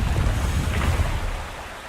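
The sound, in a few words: waterfall rushing water in the Wuthering Waves video game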